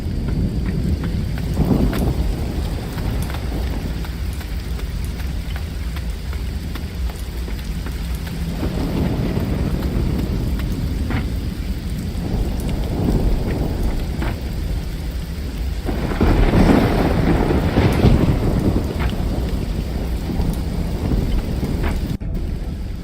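A thunderstorm rolls through a fantasy video game world with steady, dense rainfall and rumbling thunder swelling in long waves beneath it, the downpour constant and close, with no voices.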